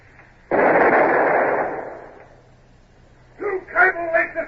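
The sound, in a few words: long nine cannon fired from ship's forecastle, radio drama effect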